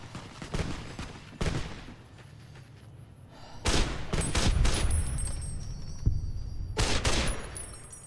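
Gunfire from a weapon in the video game Fallout New Vegas: several loud bursts of shots in quick clusters, with ringing tails between them and a busy game background, no talking.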